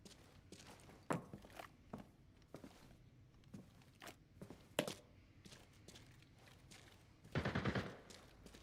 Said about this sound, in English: No, it's the sniper. They're shooting each other.